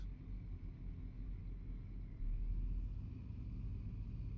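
A bus engine in Euro Truck Simulator 2 drones steadily on a countryside road, a low continuous rumble that swells slightly partway through as the vehicle keeps moving.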